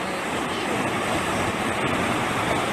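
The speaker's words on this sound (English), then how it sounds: "Just chilling with the waves, dude." Ocean waves wash onto a beach in the video game Magical Witch Bell, a steady, unbroken roar of surf that holds at an even loudness throughout, with no voices.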